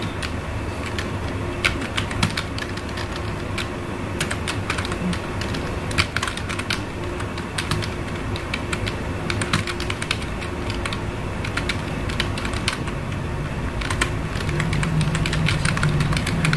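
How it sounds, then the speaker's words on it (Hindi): Steady keyboard typing of column headings into an Excel salary sheet, a dense run of close, quick key clicks with irregular louder taps, continuing alone over a low steady background hum. "यहाँ पर मैं हेडिंग टाइप कर लेता हूँ"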